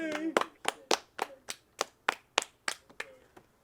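Hands clap about eleven times in a steady, fairly quick rhythm, each clap sharp and close, with a short ring after the first few and nothing else underneath.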